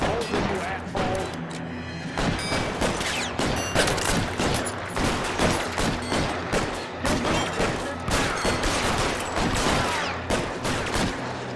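Rapid bursts of gunfire during a shootout in the video game L.A. Noire, loud and dense repeated shots over nearly twelve seconds, with a voice speaking briefly beneath the volleys.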